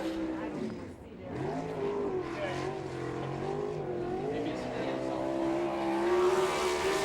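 Non-wing sprint car, car 11 class 305 econo sprint, racing through turns 3 and 4 of an oval track, engine droning and rising in pitch beneath a commentator's voice.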